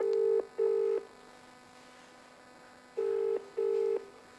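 A phone call is being placed: two pairs of clear, loud electronic ringback tones, each pair made of two short beeps, are separated by a pause, with no talking.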